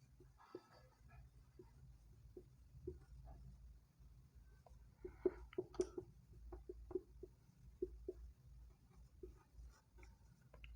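A pen or marker scratches out a maths example, irregular close taps and short strokes over about ten seconds, quiet and with no talk.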